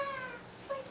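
A cat meows twice, close and clear, a long falling cry followed by a shorter one, with no talk over it.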